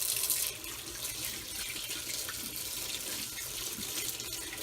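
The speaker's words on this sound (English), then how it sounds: "the first step is to wash your limes with soap" Limes are washed with soap under a running kitchen tap, giving a steady hissing splash of water that runs continuously with no talking over it.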